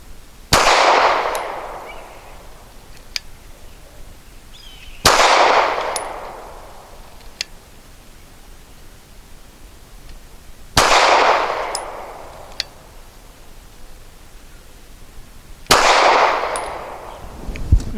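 Four sharp gunshots from a Walther PPS M2 9mm pistol, spaced about five seconds apart, each a loud crack with a ringing decay, heard alone outdoors.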